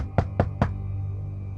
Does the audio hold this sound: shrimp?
no